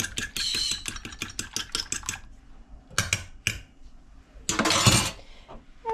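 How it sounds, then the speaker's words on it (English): Eggs beaten with a fork or whisk in a bowl, a fast run of sharp clinking taps against the bowl, then a pause and a few more scattered strikes and a scraping burst, with no talking. "And then you're just going to beat your eggs."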